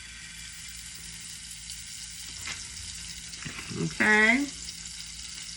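Butter sizzling in a frying pan for French toast, a soft steady fry close by. Near the end a brief, louder clatter and a short tonal squeak cut over it, and one short spoken word is heard.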